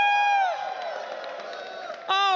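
A live esports crowd in Texas whooping and cheering, a loud sustained roar with high shouts and whistling that dips slightly mid-way, then swells again as a voice rises over it.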